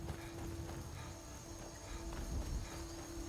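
Horse hooves clip-clop steadily in Skyrim, a brisk even rhythm of hoof falls close by under a constant tonal hum, with no one talking.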